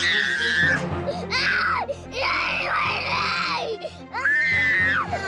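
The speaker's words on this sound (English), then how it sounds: "He was screaming, he was yelling, he was fighting" A young boy screaming and wailing in protest at having to wear his shoes, loud, close bursts of high, strained crying separated by brief gasping pauses.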